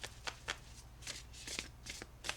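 Spirit animal oracle cards being shuffled by hand, a rapid series of crisp riffling bursts with a soft flutter between them, close and fairly quiet over a low steady hum.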